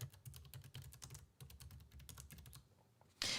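Fast typing on a computer keyboard close up, dense rhythmic clicks of keys in quick bursts with short pauses, ending in a louder clatter, no voices.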